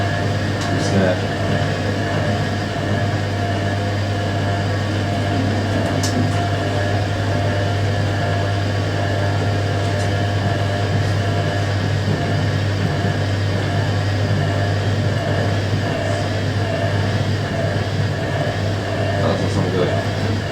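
Hoover A3060 Electronic 1100 washing machine filling and running, a steady loud low hum with continuous water rush and mechanical whir throughout, unbroken and close.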